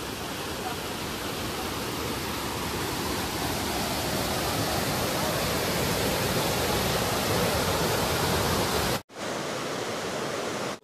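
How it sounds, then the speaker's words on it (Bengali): A waterfall swollen with heavy monsoon flow roars as dense, continuous broadband rushing, loud and close, cutting off abruptly near the end before a brief return. "এখন বর্ষার সময় প্রত্যেকটা ওয়াটারফলসে অনেক জল।"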